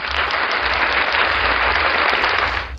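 Steady, dense applause from a crowd, sustained evenly throughout before trailing off at the very end.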